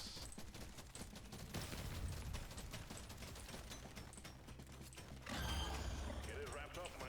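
Rapid gunfire and mechanical clatter from the video game Deep Rock Galactic: Survivor play in dense continuous bursts, growing heavier near the end, with a voice talking faintly over the action.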